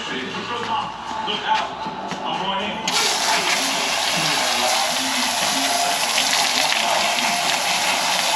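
Water from a hose sprays and rinses across an air conditioner coil during a refurbished mini split install, a steady close rushing gush that jumps louder partway through and then holds, with a voice faintly underneath.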